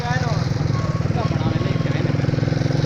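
A motorcycle engine runs steadily up close on a mountain outing in Naran Kaghan, Pakistan, its low throbbing pulse continuous throughout while voices talk over it.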